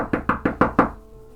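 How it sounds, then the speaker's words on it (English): Five evenly spaced, solid knocks on a door ring out close and loud, each a sharp rap, before falling quiet. "someone is knocking on the door"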